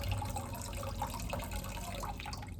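Water pours from a vase into a bowl during a home ritual, giving a soft, continuous trickle and splash with faint gurgles. The pour stays close, quiet and steady, with no voice over it.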